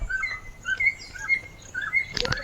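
Small birds in a tiger reserve chirp repeatedly in short, clear notes, fairly close, ending in a brief rustling scuffle.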